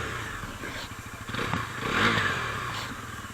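The engine of a 2025 Bajaj Pulsar NS 400Z motorcycle cranks and fires up close by, then settles into a low, throbbing idle that swells briefly as it catches.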